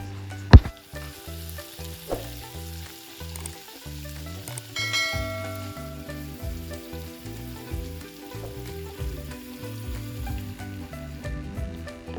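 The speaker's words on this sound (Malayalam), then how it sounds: "ചൂടുള്ള പാനിലേക്ക് 1 ടേബിൾ സ്പൂൺ ഓയിലും 1 ടേബിൾ സ്പൂൺ ബട്ടർ ഒഴിച്ച ശേഷം അതിലേക്ക് നമുക്ക് ക്യൂബ്സ് ആയിട്ട് അരിഞ്ഞു വെച്ചിരിക്കുന്ന പനീർ ലൈറ്റായിട്ട് ഒന്ന് ഫ്രൈ ചെയ്തെടുക്കാം" Paneer cubes frying in a hot pan of oil and butter for palak paneer, giving a steady, close sizzle with faint stirring and no talking.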